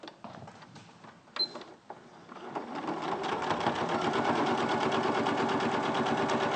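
A sewing machine doing top stitching starts with a few scattered clicks and knocks, then runs up into a steady, rapid mechanical whirr and chatter, close and alone.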